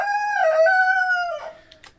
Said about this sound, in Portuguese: Vai cantando, galo, vai cantando.